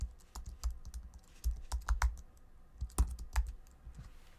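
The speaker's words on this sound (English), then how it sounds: "Then we have to type the theme name." Someone types a theme name on a computer keyboard: quiet, irregular bursts of key clicks and taps, some in quick clusters and others spaced apart, heard close up with no speech.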